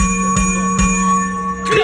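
A bell rings out to start a samba percussion battle at a festival, with bright sustained metallic ringing and a steady hum beneath, plus a few sharp struck accents near and loud.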